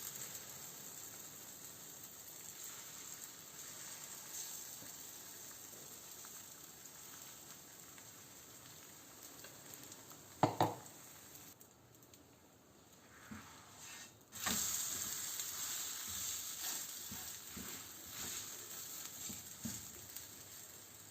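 Egg paratha frying on a stove, a faint steady sizzle of oil with soft scraping and a couple of sharper clatters, growing louder in the second half, no talking.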